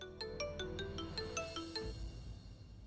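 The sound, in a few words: phone ringtone, incoming call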